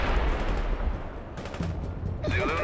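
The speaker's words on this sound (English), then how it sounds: "Zulu Niner, we copy. Firing for effect." Artillery fires for effect in the video game World in Conflict, a crackling volley of rapid distant gunfire and booms rolling over a continuous rumble.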